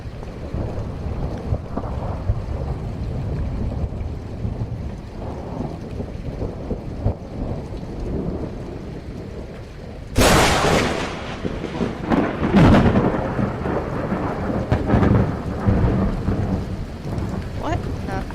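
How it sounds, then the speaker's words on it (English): Thunder in The Cat Lady video game rumbles under steady rain, then splits into a sharp, loud crack with a second burst soon after, and the rolling rain continues alone. "I think that was Thunder."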